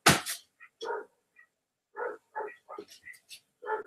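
A visiting dog that has come onto the property barks outside in short, sharp bursts, several separate yaps spread across the moment with quiet gaps between, moderately close and unaccompanied by talk.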